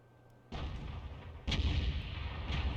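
An Object 261 self-propelled artillery gun fires in a tank video game, producing two heavy booms about a second apart, each followed by a sustained low rumble that lingers.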